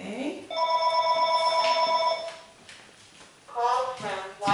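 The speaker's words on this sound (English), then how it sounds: "Sorry, the phone's ringing." A telephone rings with a steady electronic warble, a long tone followed by a shorter second burst, fairly loud and close, with some speech in the background.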